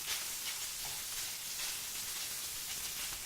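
Sausage sizzling in a pan with bacon grease, a steady crackling hiss of frying fat, moderately close and continuous, with no voices.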